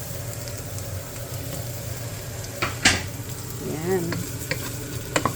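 Ground pork browns in a dry pan with no oil, cooking for a Baguio bean adobo, giving a steady close sizzle with occasional stirring scrapes and clinks, and a brief voice near the end.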